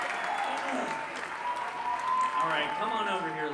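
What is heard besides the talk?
live crowd cheering and applauding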